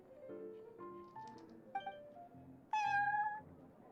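Prince, the cat in Genshin Impact, gives a series of short, high, tonal meows followed by a louder, longer meow near the end, all clear and close.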